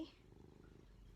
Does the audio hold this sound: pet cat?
yes